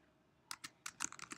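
Keys on a computer keyboard are tapped in a quick, irregular burst of about a dozen close, light clicks after a brief quiet start.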